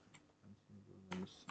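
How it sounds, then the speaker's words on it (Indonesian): Quiet, sparse keystrokes tapped on a computer keyboard, a few soft clicks with a brief louder burst near the end, with faint voice-like murmuring underneath. "Kita ketik ya"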